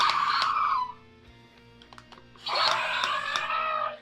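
Electronic roars from Jurassic World Dominion Uncaged Rowdy Roars dinosaur toys: a screechy, raspy call, a quieter pause with small clicks, then a second loud shrieking roar, all close up with no talk.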